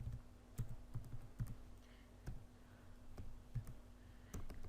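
An email address is typed on a computer keyboard, with irregular, close key clicks in short bursts and small pauses over a low background hum.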